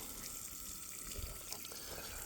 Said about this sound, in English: what I'm doing is I'm pre-soaking the ground